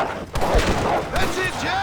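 Gunfire in the Western video game Red Dead Redemption at Beecher's Hope, with two sharp shot bursts cutting through a busy mix of voices and background sound.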